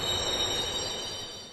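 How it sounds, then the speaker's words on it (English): A train in Minecraft screeches to a halt, a steady high metallic squeal over a rumbling undertone that holds and slowly fades, with no voices. "I awoke in a panic to the train screeching to a halt."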